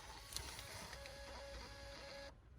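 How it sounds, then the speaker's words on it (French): A small receipt printer in a taxi prints a fare receipt, a faint whirring buzz running steadily for about two seconds before stopping abruptly, alone in a quiet cabin. "par le biais d'une petite imprimante qui est ici."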